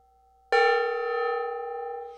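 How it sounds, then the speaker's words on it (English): A single gong is struck in a workshop and rings out with a sharp attack and a long, steady shimmering sustain that slowly decays, loud and close, with no talking. "I'm going to hit that gong"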